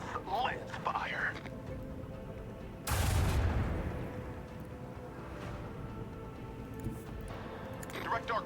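Lance weapons fire in a mecha video game, with one loud booming blast standing out over a steady rumble of in-game combat noise, while players talk over it.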